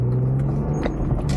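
1998 BMW M3 engine while driving: a steady, close low engine drone with road rumble, brief and unbroken.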